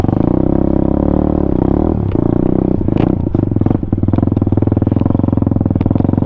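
A Venom Thunder 125 dirt bike crawls slowly through mud, its small engine thudding steadily up close at low revs, with clattering and scraping from the chassis mixed in.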